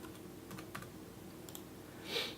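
Arrow keys on a computer keyboard are pressed in a few faint, scattered taps, with one slightly louder click near the end, against quiet room tone and no speech.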